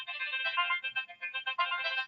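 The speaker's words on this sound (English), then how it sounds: "Telemarketers aren't supposed to call your cell phone" A cell phone rings with a bright, repeating electronic melody from an incoming telemarketer call, clear and alone for about two seconds.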